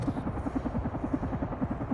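Helicopter in the video game Carrion, with a steady rhythmic rotor chop pulsing throughout at a fairly close, even loudness.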